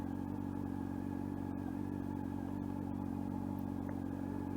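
A motorcycle engine idles steadily at around 1,500 rpm, a continuous low, even rumble with light mechanical clatter, heard close and alone with no talking.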